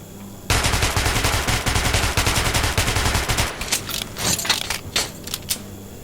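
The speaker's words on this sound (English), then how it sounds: "Feel free to try out your weapon on my firing range" Rapid gunfire on a firing range in Metro 2033, with dense repeated shots in the opening bursts, then sparser, separate shots closer together toward the end, with no talk over it.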